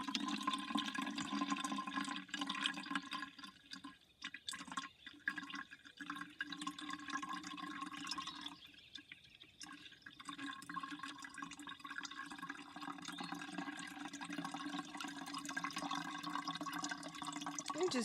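Vietnamese coffee trickling through a metal strainer into a pitcher, a steady close wash of water-like pouring and dripping that continues alone throughout.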